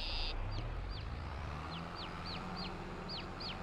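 A chicken in a farming video game gives a run of short, rising clucks, evenly spaced and clear over a dense, steady background bed.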